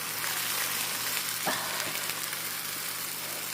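Chicken breast browning in a crowded pan, a steady loud sizzle and crackle of frying with a brief scrape of stirring partway through, no talking.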